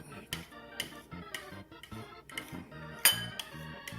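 A spoon clinks and taps repeatedly against a bowl while stirring a honey tofu marinade, with light irregular metallic knocks and one sharper clink near the end, close and fairly quiet with no talking.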